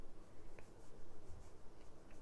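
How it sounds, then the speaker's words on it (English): Pencil or pen scratching across paper while jotting a word by hand at a watercolor painting desk, soft and close with faint, irregular strokes over a low background hum. "let me just write it down here"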